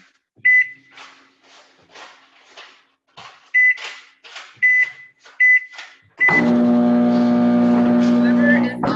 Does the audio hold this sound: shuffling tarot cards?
no